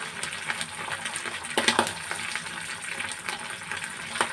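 Pabda fish, coated in spices, sizzling as it fries in hot spiced oil, a steady crackle with a few sharper pops as pieces go into the pan, close and moderately loud with no voices.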